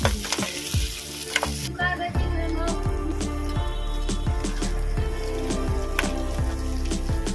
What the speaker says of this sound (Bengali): পেঁয়াজটা ভাজা হয়ে গেছে হালকা করে আমি এবার কাঁকড়াগুলো দিয়ে দেবো